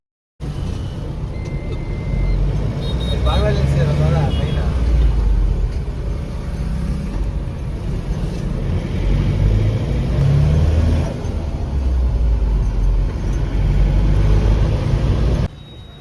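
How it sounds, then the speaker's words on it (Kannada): A Tempo Traveller van on a test drive after servicing, its engine rumbling steadily and close throughout, with low road noise and occasional voices under it. "ಈಗ ಸುನಿಲ್ ಈಗ ಒಂದು ರೌಂಡ್ ಟೆಸ್ಟ್ ಡ್ರೈವ್ ತಗೊಂಡೋಗ್ತಿದ್ದಾರೆ"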